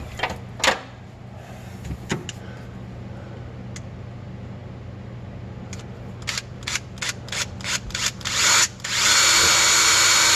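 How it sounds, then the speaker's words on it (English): A power drill bores a hole through aluminum, with a short whir and scattered clicks at first, then several quick trigger bursts, ending in a steady loud high whine close by. "It's aluminum, so it drills easy."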